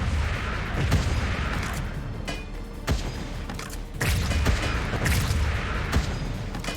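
Gunfire and explosions from the video game Wall World come as repeated booming blasts and rapid thuds. Dense bursts arrive in several clusters over a continuous rumbling bed at moderate loudness, with no voices.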